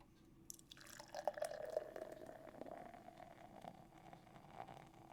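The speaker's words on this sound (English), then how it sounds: "we're pouring right into a mug" Guinness stout glugging from a bottle into a mug, a close, fairly quiet stream that begins abruptly and settles into a fizzing, bubbling pour with foam building, no talking.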